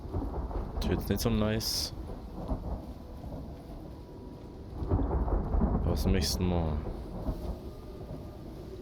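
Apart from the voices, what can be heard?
thunderstorm in a video game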